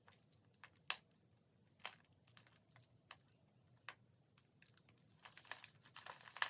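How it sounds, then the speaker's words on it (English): Hands break up potting soil and gently untangle the roots of an Alocasia odora during repotting, giving quiet, close crinkling and crumbling with scattered sharp ticks and rustles that grow busier toward the end. "I'm gonna break up the soil as gently as possible."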